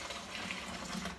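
Malt extract from a beer kit being poured into a fermenter, a soft continuous liquid splashing and gurgling, faint and steady with no talk.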